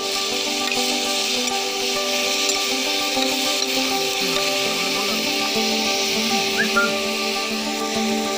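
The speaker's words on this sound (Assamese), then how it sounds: "কেৰাহী গৰম কৰিছে আৰু তেল নিদিয়াকৈ গাহৰি পেলাই দিছে" Pork drops into a hot wok with no oil at an outdoor picnic and sizzles in a steady, moderately loud hiss, with faint tonal whistles in the background and no voices.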